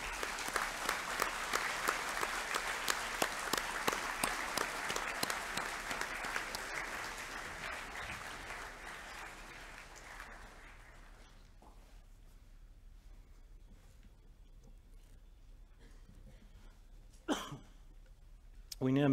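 A school assembly audience claps warmly for award recipients at a Year 11 academic awards ceremony, sustained applause that fades after about ten seconds into coughs, shuffling and a few faint voices.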